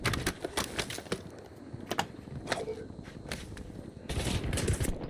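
Rapid bursts of video game gunfire crackle in uneven volleys, some shots sharp and close, with a louder sustained barrage near the end and voices talking intermittently underneath.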